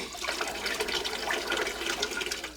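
Water runs from a faucet in Zagora in the Sahara, a steady, close rushing stream that keeps flowing without a break.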